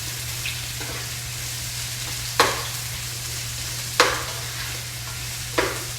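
Mirepoix with garlic, peppers and onions frying in a pan, a steady close sizzle broken by three sharp stirring scrapes at regular intervals over a low constant hum.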